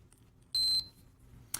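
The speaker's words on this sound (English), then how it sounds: "this is the third variation, the Atacama Field Alarm Watch" Atacama Field Alarm Watch on a wrist giving one short, loud high-pitched electronic beep burst, about a quarter second long, with a faint click afterward.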